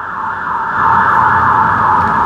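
Loud, close ambulance siren wailing steadily with a continuous rising-and-falling tone, heard alone without talk.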